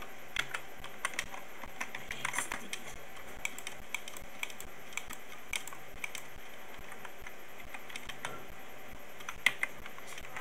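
Someone types a name on a computer keyboard, producing faint, scattered key clicks at an uneven pace over a quiet background, with no one speaking.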